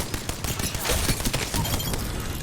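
Rapid enemy gunfire from a shooter video game crackles in dense bursts throughout, with a faint game voice barely present beneath the shots.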